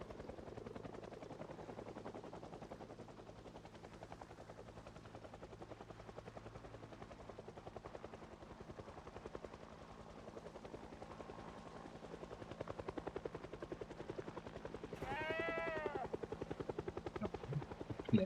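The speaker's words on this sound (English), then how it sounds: "But that's not my helicopter." A helicopter in the video game Project Zomboid flies overhead, a steady rotor drone that holds throughout and swells louder toward the end, with a brief sharper sweep near the close.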